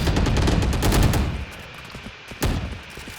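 Rapid bursts of gunfire from the Stinger gun in a video game, loud and dense at first, thinning to a few scattered shots, with no voices.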